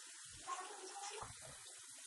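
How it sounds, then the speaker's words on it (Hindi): A tap runs clean water over vegetables being washed in a sink, a soft continuous hiss with a few low splashes as the stream hits the produce. "सबसे पहले आप थोड़ा सा जो साफ वाटर है टैप से आप इसमें चलाएंगे"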